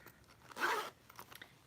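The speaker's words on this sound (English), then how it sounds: "it has this that is a zipper" A single quick zipper pull on a knitting project bag, one short close rasp followed by faint fabric rustles and small clicks.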